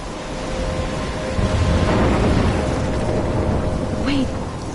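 Stormy ambience from the video game Life is Strange: a steady roar of wind and rain with low rumbling swells of thunder, loud and continuous throughout, with no speech.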